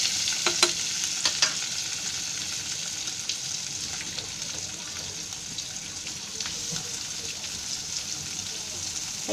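Black pomfret coated for rawa fish fry sizzling in a pan over a low flame, a steady soft frying hiss with occasional light clinks from turning the fish.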